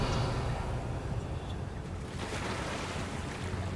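Bubbling water in the video game Hogwarts Legacy, a steady, continuous wash of watery noise with no clear breaks, moderately loud throughout.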